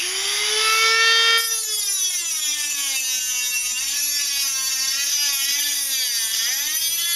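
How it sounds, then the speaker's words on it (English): A Dremel rotary tool fitted with a small grinding stone whines at a high pitch while working a homemade wood gas stove; the motor pitch drops after a second and then wavers steadily as the stone bears on the work. "I'm going to switch back to the Dremel tool, which I happen to have a little stone on it"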